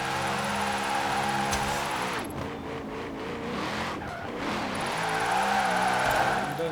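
A car drifts in a video game on Fortune Island, its engine revving and tires squealing continuously through long slides, loud and close with shifting pitch as it swings through turns.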